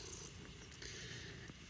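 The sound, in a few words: cat purring while having belly rubbed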